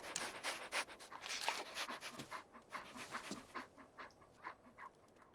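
Dogmeat, the dog companion in Fallout 4, pants in quick rhythmic breaths, close but fairly quiet, with the bursts fading a little toward the end and no speech over them.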